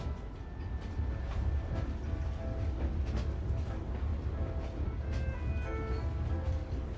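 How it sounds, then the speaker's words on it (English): A train rolls along a railroad built over a canyon in the video game Genshin Impact, a steady dense rumble with a low rolling drone that holds at an even level throughout, with faint tonal hints of machinery above it. "Train चल चुकी है।"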